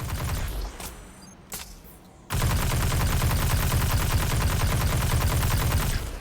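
Rapid automatic gunfire from the Destiny 2: The Witch Queen shooter game, a few scattered shots and then a sustained, loud, continuous burst that runs for several seconds without talk.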